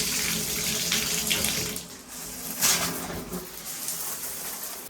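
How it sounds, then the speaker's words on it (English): Shower water runs steadily over Lego pieces being rinsed, a continuous hiss and splash with brief surges as the flow shifts, close and fairly loud with no talking. "next thing we're going to do is just rinse these off in the shower"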